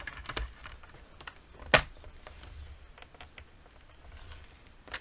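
Card paper is scored and creased with a tool, giving faint scratchy ticks and rustles, with one sharp crisp snap partway through, all close and quiet with no voices.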